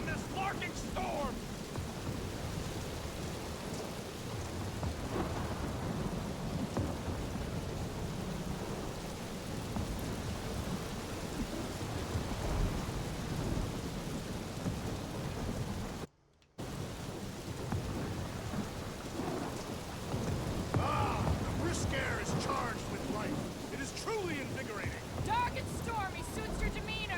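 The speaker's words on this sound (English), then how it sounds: "Because I'd rather be blown to bits than stuck in this larking storm!" Thunderstorm with rain in the video game Guardians of the Galaxy, a continuous dense wash of rainfall with rumbling thunder throughout and a brief dropout partway through, moderately loud.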